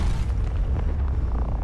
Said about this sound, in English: this is definitely a bigger explosion